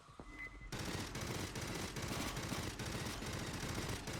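Rapid rifle fire in the co-op shooter Aliens: Fireteam Elite, a dense continuous clatter of shots layered with game effects and explosions, fairly quiet overall with no speech.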